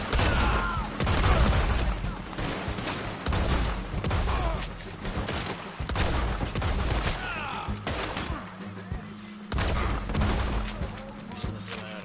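A semi-auto shotgun fires repeatedly in a Western open-world online game, loud blasts in irregular bursts mixed with other game sounds and some speech.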